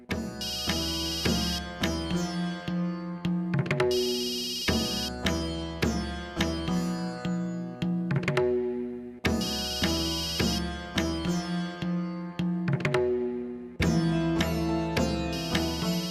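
A mobile phone ringtone plays in repeated melodic bursts in an indoor scene, loud and close, looping several times with short gaps and no talking.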